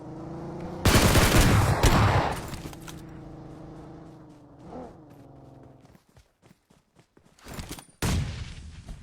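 Gunfire in the mobile battle royale game PUBG Mobile, with loud sustained bursts of automatic fire, then lighter scattered clicks and footsteps, and another sharp burst near the end.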